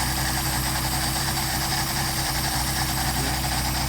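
A Mercedes 190SL engine fitted with Solex carburetors idles steadily after warming up, a loud, continuous, even rumble with no voices.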